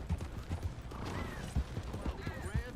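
Horse hooves clip-clopping in the Red Dead Online video game, a steady run of soft, muffled hoofbeats under background noise, with a faint whinny-like tone in the mix.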